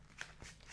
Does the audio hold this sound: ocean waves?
no